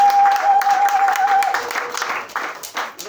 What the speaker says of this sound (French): Est-ce qu'on peut acclamer pour nous?